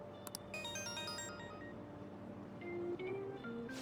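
Phone ringtone from the video game Persona 5 Royal, a bright melodic electronic jingle ringing briefly and then fading under a low hum of game background sound, no talk.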